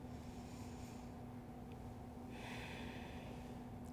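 Breathing in and out during a power vinyasa yoga flow, a faint, steady breath sound with one clearer exhale near the middle, over a low background hum.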